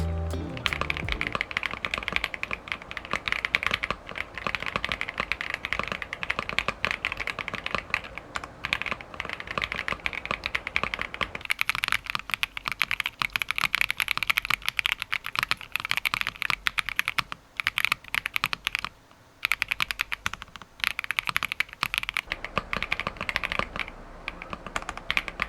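Rapid, continuous typing on a stock RK R65 mechanical keyboard, close and crisp with dense overlapping key clacks and an occasional brief pause, no other sounds.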